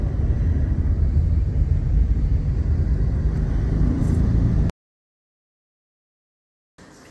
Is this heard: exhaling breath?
no